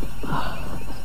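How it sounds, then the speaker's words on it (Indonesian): Horse hooves approach on a path in a radio drama, a muffled clip-clop mixed with a faint whinny, loud and close over a dense rumbling background. "suara langkah kaki kuda itu semakin dekat saja"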